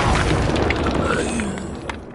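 A disarming spell effect from the Hogwarts Legacy video game erupts in a loud, booming magical blast with crackling, shattering textures that slowly fade over two seconds, with no talk.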